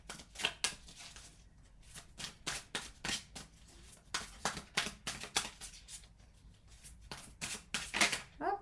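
Tarot cards are shuffled by hand in a quick series of crisp riffling bursts, close and fairly quiet, with short pauses between handfuls.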